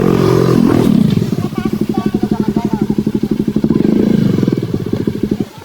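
A motorcycle engine revs hard up close, its rapid, pulsing exhaust beat rising and falling steadily across the whole stretch.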